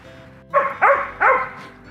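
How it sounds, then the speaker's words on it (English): A dog nearby in a park at evening gives three quick, loud barks in a row, close and clear over a quiet outdoor background. "There's a dog nearby barking."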